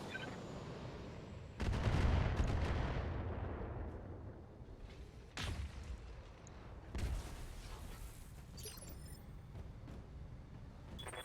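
Weapons fire in the mech game Battletech: Heavy Metal, three heavy booming volleys, each a sharp blast that rolls off into a long decaying rumble over a steady low background.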